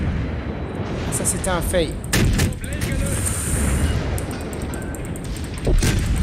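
Warship artillery and explosions in World of Warships, cruiser battle: heavy booming gun blasts and impacts, several sharp loud bursts spread across the stretch over a rumbling backdrop, with someone speaking French in between.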